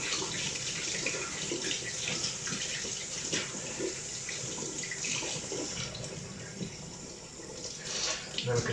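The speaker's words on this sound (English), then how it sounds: "Nice hot water." Hot water runs from a tap into a tub, a steady splashing gush with faint clinks and small shifts in flow throughout.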